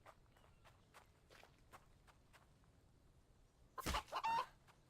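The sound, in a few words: chicken clucking in a video game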